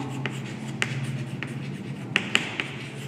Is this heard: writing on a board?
yes